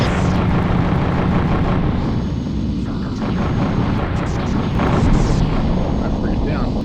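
A frigate is blown apart in the PS1 space combat game Colony Wars, with dense, loud rumbling explosions and booms layered over a constant roar of engines, and crackling bursts throughout.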